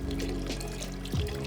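Water poured from a container while rinsing a fish net over a reef tank, a steady close splashing trickle that swells briefly near the end.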